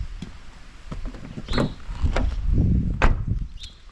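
Car doors opened and slammed shut one after another, a series of sharp, close thuds and latch clicks with handle rattles between them, heard alone in a quiet outdoor setting.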